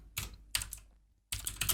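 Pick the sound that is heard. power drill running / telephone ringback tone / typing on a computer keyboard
typing on a computer keyboard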